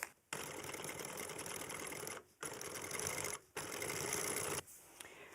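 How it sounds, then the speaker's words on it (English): A sewing machine fitted with a piping foot stitches a rolled leather bag handle, running in three long steady buzzing bursts separated by brief pauses, close and even in loudness. "now that my piping foot is on, I'm going to go ahead and stitch starting here at this point and then stitch all the way over to the"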